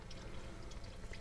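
Coolant draining from the loosened water pump of a 1999 International 4700 truck, a faint, close trickle with scattered drips, steady and quiet.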